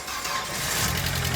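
A Volkswagen Passat with a low battery, jump-started with a jumper box after sitting for a while, cranks and catches into a loud, broad engine roar, close by and continuous, with a voice mixed in.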